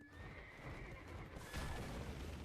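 A horse in a video game gives a faint, drawn-out whinny over a steady wash of background noise, with a soft thud and rustle partway through.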